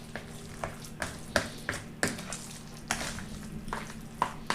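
Bread pudding mixture of breadcrumbs, milk and fresh eggs being mixed together in a bowl, giving a series of close, irregular knocks and scrapes every half second or so over a soft, wet background, with no talk.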